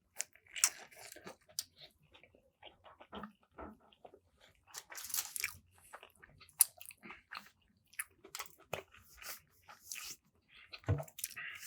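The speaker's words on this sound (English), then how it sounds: "let's get into the first chew and just this burger" A Five Guys double cheeseburger is bitten and chewed up close, with wet squishy mastication, soft crunches and smacking in irregular bursts separated by brief quiet gaps, and no talking.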